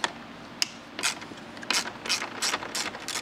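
A ratchet with an extension and an 8mm socket turns out dash screws on a 2024 Jeep Wrangler or Gladiator. It gives a steady series of close, crisp clicking strokes over a low background hum.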